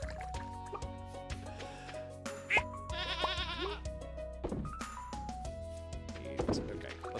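A goat bleats in a video game on a farm, a wavering cry in the middle of the clip over steady game music, with dripping and liquid-filling sounds around it and faint talk.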